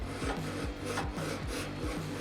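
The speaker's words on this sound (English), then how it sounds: "So Just touch that with a file." A hand file rasping over a scrape on an airplane part, steady back-and-forth strokes in an even rhythm, close and fairly quiet, with no talking.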